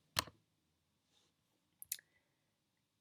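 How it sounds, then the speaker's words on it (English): A left mouse button clicked while working in an Excel spreadsheet: one sharp close click near the start, a faint tick around a second later, then a second crisp click, in a quiet room with no talking. "click here with the left mouse button"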